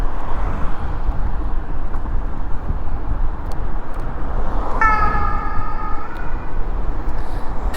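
A fire engine siren wails briefly in the middle of the clip, partly buried under heavy wind rumble from riding a Kukirin M4 Max electric scooter.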